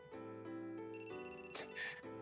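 A mobile phone rings with an incoming call, playing a melodic electronic ringtone of stepped tones that climbs to brighter, higher notes near the end, fairly quiet and alone.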